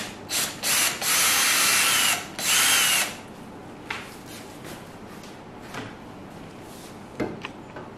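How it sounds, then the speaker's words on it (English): Power drill whirring in short bursts while backing screws out of the case of a 10kWh lithium-polymer battery pack, two long close runs then small clicks and handling knocks, no talk. "So we have to open up some screws."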